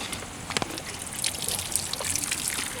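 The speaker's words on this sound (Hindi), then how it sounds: "रेड वाली नॉब निकालनी है, जिससे कि जो भी फिल्टर में बचा हुआ पानी है वो निकल जाएगा" Leftover water trickles and dribbles out of the filter of a Mitra Grapemaster Bullet sprayer, a faint, close, irregular splashing with a few small drips, heard alone.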